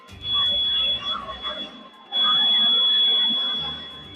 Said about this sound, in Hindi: जैसे ट्रेन यहाँ आएगा, यहाँ बजर बजता स्टार्ट हो जाएगा